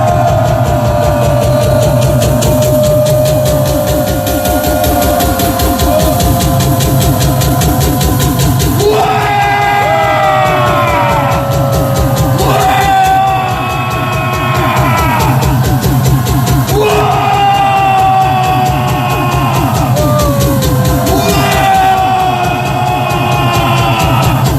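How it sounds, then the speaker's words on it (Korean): A large crowd at a patriotic prayer rally in front of Cheong Wa Dae in Seoul roars one long, loud, sustained cheer together. The mass of voices swells and surges without a break. "자, 함성 시작!"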